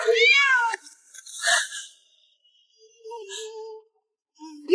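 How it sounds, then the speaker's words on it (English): A cat meows close by in a rising, drawn-out cry, followed by softer breathy sounds and quieter short mewing notes with brief silent gaps between them. "Ella liked cats."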